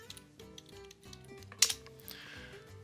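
Light, irregular taps of typing on a computer keyboard, close and fairly quiet, in short bursts with one sharper click partway through.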